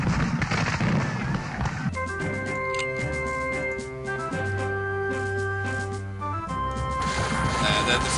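Musket volley gunfire crackles in the Civil War strategy video game Civil War Generals 2, a dense rolling burst of shots opening and closing a stretch of sustained game music tones.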